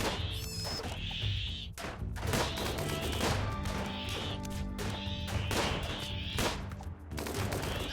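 RimWorld gunfire in a dense, loud barrage of rapid shots, bangs and crashing impacts, continuous throughout with no talking.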